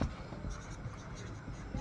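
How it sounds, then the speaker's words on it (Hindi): Steady scratchy strokes of writing on a classroom board run continuously at low level, a soft dry scraping texture with no speech over it. "हम लिखते हैं"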